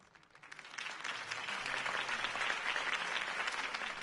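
Steady applause from a crowd follows Harvey Dent's campaign speech in a Batman video game, swelling in quickly and holding as dense, even clapping.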